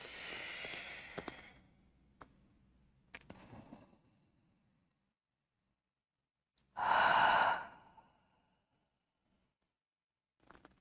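A long, loud exhale during a yoga forward fold in an Ashtanga class, a single breath released alone after a few faint clicks, with quiet afterward.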